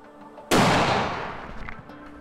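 A single loud rifle shot fired at a target outdoors during alpine hunting in New Zealand, a sharp crack with a long echoing tail that fades over a second or more.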